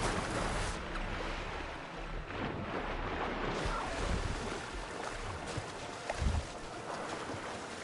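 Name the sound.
ocean waves in video game Horizon Forbidden West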